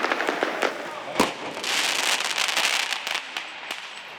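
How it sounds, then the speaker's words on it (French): Firework mortar shots burst across a housing estate, a run of sharp cracks and bangs in quick succession, several loud and close with others farther off, followed by a spell of hissing crackle. A voice is faintly present underneath. "8 tirs de feu d'artifice qui proviennent du cœur du quartier"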